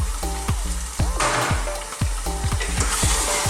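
Seasoned lamb chunks sizzle and crackle loudly as they brown in a pot over fairly high heat, with repeated clanks and scrapes of stirring layered over the steady frying hiss.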